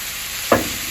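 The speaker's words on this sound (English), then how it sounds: "Our onions and sweet pepper have been sauteing" Vegetarian protein drops into a pan of sautéed onions and sweet pepper, giving one brief loud sizzle burst over a constant frying hiss.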